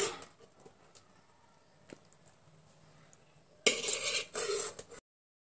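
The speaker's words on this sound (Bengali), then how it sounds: "এবার আমি একটা চামচ নিয়ে একটা প্লেটের মধ্যে পরিবেশন করে দেখাচ্ছি।" A spoon scrapes and taps against a plate while serving cooked spinach and radish greens, faint scattered clinks at first, then a louder burst of scraping near the end before silence.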